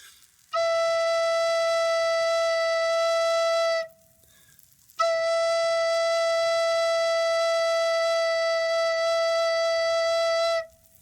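A beginner's recorder sounds the note E twice in long, steady, pure tones of about three and six seconds, separated by a short breath gap, played alone.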